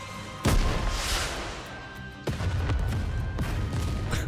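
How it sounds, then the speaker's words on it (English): A rocket launcher shell fires and explodes in the anime game Goddess of Victory: Nikke on a snowfield, giving two loud, sharp booms a couple of seconds apart, each trailing into a noisy rumble. "a shell flies from the rocket launcher"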